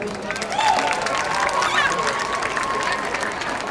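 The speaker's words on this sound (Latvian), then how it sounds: "Aplaus pašiem sev noteikti par to." A concert audience applauds at an outdoor show on a town square, a dense wash of clapping and crowd noise from many people, with a voice speaking over it.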